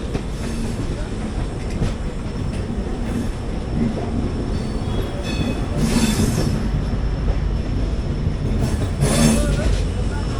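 The Udyan Express rumbles into platform 1 at Pune Junction, with steady wheel noise, intermittent squeals and clicks close by, and voices faintly underneath.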